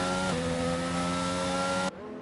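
Race car engine from a racing video game, driven around the track: a loud, steady high-revving engine drone with layered harmonic tones that shift in pitch partway through, then drop suddenly near the end.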